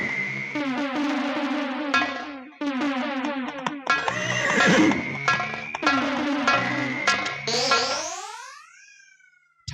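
A horse neighs and whinnies loudly and repeatedly in long, wavering calls, the sound heavily processed with echo and distortion effects, ending in a falling whinny.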